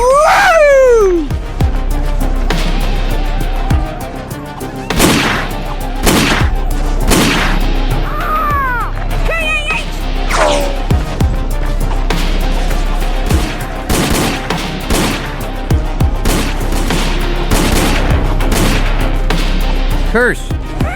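Rapid bursts of gunfire with people shooting, sharp cracks and booms firing in irregular clusters throughout, loud and close, with shouting voices heard over the shots.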